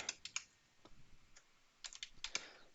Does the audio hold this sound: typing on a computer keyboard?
yes